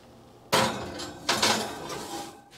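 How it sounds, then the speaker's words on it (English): A pie is set down onto a metal pizza pan, giving two close, ringing clanks less than a second apart that fade into a short metallic resonance. "So I put my pie on top of a pizza pan."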